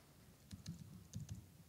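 Computer keyboard keys pressed for shortcuts, a few soft clicks in two quick pairs, close and quiet against a faint background hiss.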